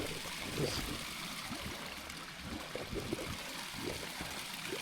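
Steady streams of water pour from the spouts of the Pancuran 7 bathing place on Mount Lawu, a constant near gurgling flow heard on its own.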